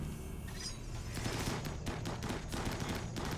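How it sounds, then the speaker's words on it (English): Dropped ammunition cooks off on the floor during a RimWorld zombie fight against mechanoids, a rapid loud crackle of popping explosions in an irregular fusillade over a dense, constant background roar. "The ammo is popping on the floor!"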